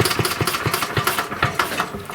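A 1937 Briggs and Stratton Model A small engine runs close by with a loud, uneven chugging rhythm of rapid firing pulses and mechanical rattle.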